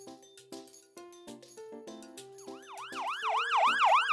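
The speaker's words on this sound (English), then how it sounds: "Ambulance." A wailing ambulance siren fades in and rises in repeated swoops, growing louder after a string of tinkling musical notes.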